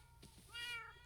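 Cats meowing in Minecraft, bred in numbers for a creeper tower: a short, close meow rises and falls over a soft game background, with a faint second call near the end.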